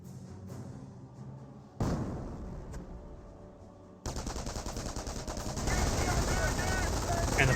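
Company of Heroes battle with a gunfire volley poured onto a bunker, dense rattling machine-gun bursts and rifle shots that build into a loud sustained barrage, with a voice talking over the action.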